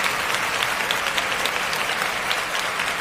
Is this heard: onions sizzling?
no